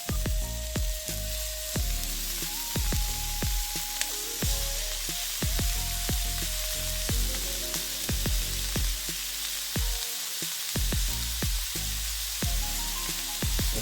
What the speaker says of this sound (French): on ajoute notre viande hachée